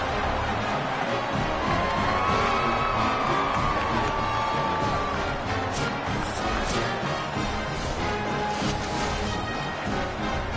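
Football stadium crowd roaring and cheering ahead of a field goal attempt, a dense, steady wall of voices with scattered shouts and whoops rising through it.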